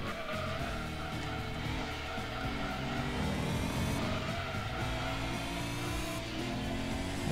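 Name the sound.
car driving in video game Gran Turismo 2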